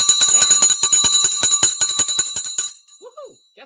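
Stock market closing bell, a loud rapid clanging ring of repeated strikes for over two seconds, then cutting off into near silence with a faint trailing voice.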